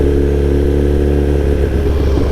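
A Suzuki GSX-R1000R motorcycle on a morning commute, its engine humming loud and close in a steady, even drone with road and wind rumble.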